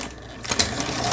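A Lion household sewing machine under repair stitching zigzag and quilting seams, a steady mechanical whir with rapid clicking needle strokes growing busier partway through, close and without talk.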